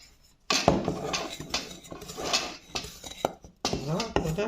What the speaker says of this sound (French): Mélanger tous les ingrédients ensemble.